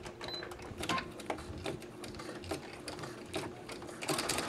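A sewing machine stitches a mop pad with a steady fast mechanical clatter of the needle, quiet and close, with small ticks and knocks from the workings and no talk.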